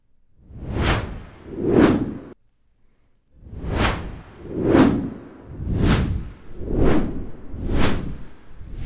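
Whoosh sound effect from a 'white' preset in the UVI Whoosh program: two sharp airy swooshes, a short pause, then six more evenly spaced sweeps, each rising and falling quickly, loud and close with no talking.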